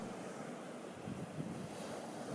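Ocean surf at Point Reyes National Seashore on the coast north of San Francisco, a continuous wash of breaking waves mixed with wind rush, steady and enveloping, with no voices.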